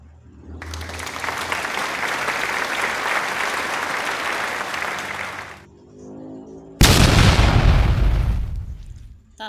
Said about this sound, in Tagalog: Ayan yung mga fireworks sa aming kapaligiran.